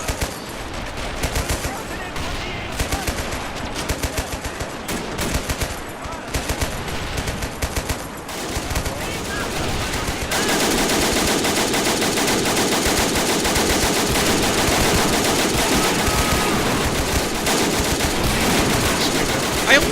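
Soldiers in a forest battle in Men of War Assault Squad 2 fire continuously, a dense, loud clatter of machine-gun and rifle shots that thickens midway into a sustained roar.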